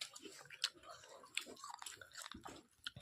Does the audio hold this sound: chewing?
yes